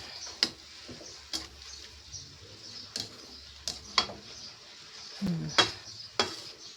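Sautéed pechay being stirred in a pan on a gas stove, heard as a light sizzle with scattered clinks and scrapes of a utensil against the pan at an uneven pace.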